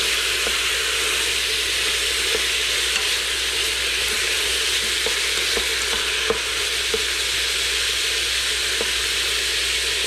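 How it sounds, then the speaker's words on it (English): Birria meat browns in the hot pot of an Instant Pot, giving a loud, dense, unbroken sizzle with scattered small pops and crackles throughout, no talking. "We're just browning it, getting some color on the meat."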